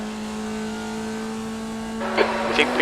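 A Formula Vee race car engine in iRacing at Laguna Seca holds a steady tonal drone, then rises into louder revving with brief bursts of tire noise near the end.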